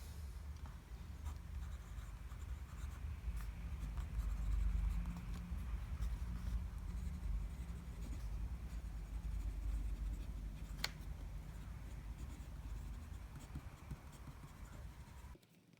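A pen scratches across paper in steady, faint strokes, close and quiet, with soft continuous scratching and occasional small taps over a low background hum.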